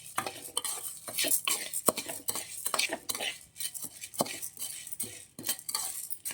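Spices being dry-roasted in a pan for masala dosa powder, stirred with a metal utensil that scrapes and clinks in quick, irregular strokes, with a faint crackle beneath.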